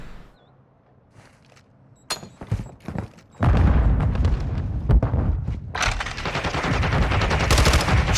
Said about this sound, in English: Shots ring out, but it's the Semtex that connects